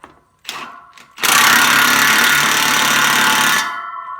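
An impact wrench tightens the planar knife bolts on a Gyrotrac 500HF mulcher head. Two short bursts come first, then one loud, continuous rattling run of about two and a half seconds, close up.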